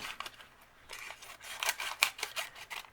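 Scissors snip through a paper cupcake liner for a chenille doll's skirt, a quiet series of short, crisp cuts and rustles, close and alone.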